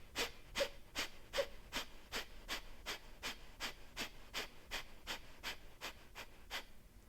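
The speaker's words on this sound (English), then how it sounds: "The Kapalabhati breath is a passive inhale and a forceful exhale where we pump our belly like this." Kapalabhati yoga breathing: a steady series of about eighteen sharp, forceful exhales through the nose, evenly paced and close, with passive inhales between and no talking.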